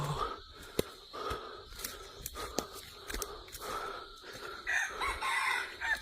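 Wild jungle fowl crowing outdoors, repeated rooster-like calls rising over a noisy, busy background with sharp clicks and rustling.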